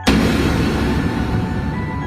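A single loud explosion effect from a Tagalog aswang horror audio drama set at a remote provincial factory, a sharp close blast followed by a long rumbling, fading decay with no speech over it.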